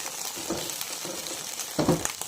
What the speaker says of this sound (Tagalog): iprito lang natin to hanggang mag-golden brown ang ating beef loaf or meatloaf